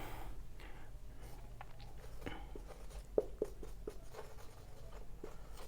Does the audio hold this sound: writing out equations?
yes